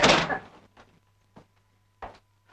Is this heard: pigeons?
no